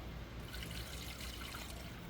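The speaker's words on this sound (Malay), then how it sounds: "kita bubuh air 1 liter" About one liter of water pours into a cooking pot for a mint and clove remedy, a continuous full splashing and gurgling stream that stays close and fairly loud throughout, with no voices.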